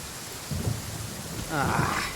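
A short burst of thunder and rain in a Genshin Impact lightning storm, with two low rumbles swelling over a constant hiss of falling rain.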